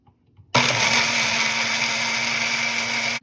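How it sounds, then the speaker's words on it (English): A blender whirs at full power through a jar of almonds and water, starting abruptly and holding a steady, loud grinding roar for about three seconds before cutting off. "Next step, now I have to blend it."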